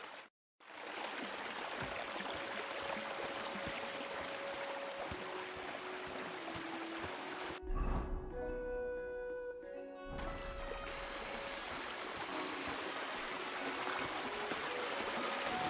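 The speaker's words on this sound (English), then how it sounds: "Usually there's only a small trickle running through here. The water must have risen." A swollen stream in Kingdom Come: Deliverance II rushes steadily in a broad, close hiss of running water. It breaks off briefly at the start, and a short tonal game sound cuts through partway.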